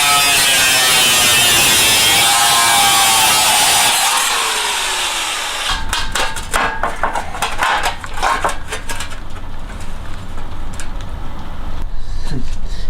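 Angle grinder with a 4.5 inch blade cutting off a bracket on a Subaru BRZ during a turbo kit install: a loud, bright, sustained grinding screech, then choppier intermittent cuts with scraping metal.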